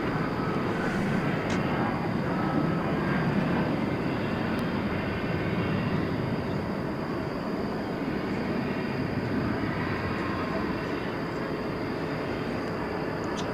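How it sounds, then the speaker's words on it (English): An American Eagle CRJ regional jet arriving at DFW Airport produces a continuous broad engine roar that holds steady and fairly loud throughout, with no speech over it. "There's a CRJ regional jet."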